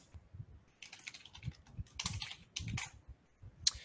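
Fingers type client details on a computer keyboard in a quiet office, a rapid, irregular patter of close, crisp key clicks in bursts with short pauses, ending in one sharper tap.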